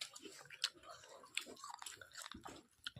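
Close, wet chewing and biting while eating watermelon, with soft crunches and mouth sounds scattered over three seconds at low volume, no talk.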